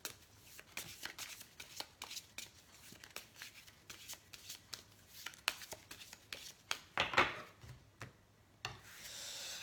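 Oracle de la Triade oracle cards being shuffled by hand, a steady run of soft riffling and rubbing card sounds, close and fairly quiet, with a brief louder flutter near the end.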